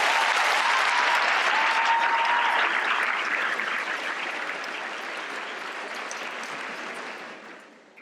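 Audience applause welcoming Aldo Billingslea to the stage, a dense, loud burst of clapping from a crowd that holds steady and then fades out over about eight seconds.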